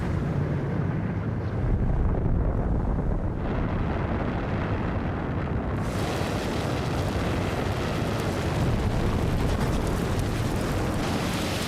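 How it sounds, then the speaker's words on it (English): The Toba supervolcano erupting in Sumatra: a dense, continuous rumbling roar fills the whole stretch and intensifies partway through into a harsher, brighter blast that carries on undiminished. "On the other side of the world, in Sumatra, a volcano called Toba erupted."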